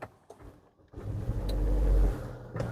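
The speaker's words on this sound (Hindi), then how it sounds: "एंड करते हैं गाड़ी को एक बार स्टार्ट" An MG Astor car engine starts up: a faint click and quiet cabin sounds give way to a smooth, fairly soft engine rise that settles back to a low idle, with no talking.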